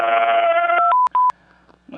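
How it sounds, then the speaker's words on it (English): A phone is dialed on a keypad, giving a rapid run of bright touch-tone beeps: one long tone and then two short, evenly spaced beeps, close and clear, ending with a brief rustle. "Can you call him on this phone?"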